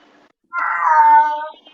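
A cat gives a single clear, drawn-out meow close to the microphone, about a second long and alone, with near silence before and after.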